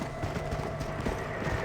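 A horse in the video game Red Dead Redemption Undead Nightmare, the pale horse, trots with continuous rhythmic clip-clop hoofbeats over a dense, loud game background.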